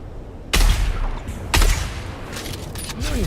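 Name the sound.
gunfire in the video game Dune Awakening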